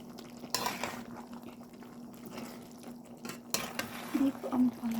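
Ampalaya (bitter gourd) and beef stirred in a pan, with light utensil scrapes and clinks against the metal over a faint steady hum and soft sizzle, two sharper knocks standing out.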